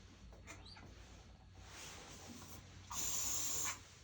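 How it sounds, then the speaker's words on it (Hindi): Hair spray hisses onto a hair bun in one short, bright burst lasting under a second, after a quiet stretch. "हेयर स्प्रे जो बाल उड़ रहे हैं उनको फिनिशिंग देंगे"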